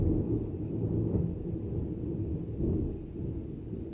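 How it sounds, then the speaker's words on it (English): Low, rolling rumble of thunder sustained across the whole stretch, swelling slightly around the middle and again near the end, with no voices over it. "Ooh. That's thunder."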